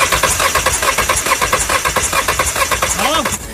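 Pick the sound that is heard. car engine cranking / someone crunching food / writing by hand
car engine cranking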